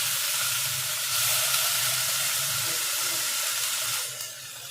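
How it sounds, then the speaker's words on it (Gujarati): Cumin, asafoetida, tomatoes and spinach sizzling in a hot pan, a loud steady hiss and crackle that swells briefly then eases toward the end, with no one talking. "જીરું નાખી દઈએ, હિંગ નાખી દઈએ અને ટમેટાં નાખી અને પછી આપણે પાલક પણ એડ કરી દઈએ."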